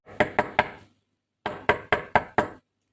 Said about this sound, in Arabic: الباب بيخبط وجدو جاي يا ماما